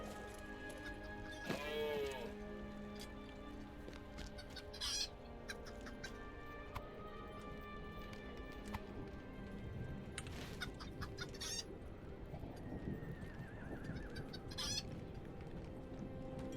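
Chicken clucking in the Lord of the Rings Online video game, a few short clucks and squawks scattered over quiet game ambience and music.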